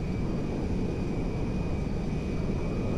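Boeing 747LCF Dreamlifter mod aircraft cruising in GTA 5, a steady, unbroken jet engine roar holding level for the whole stretch with a faint constant whine above it, no voices.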